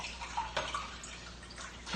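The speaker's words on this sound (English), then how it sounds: "You're probably wondering why I'm pouring water" Water is poured in a gentle, continuous trickle with small splashes and gurgles, close and fairly soft.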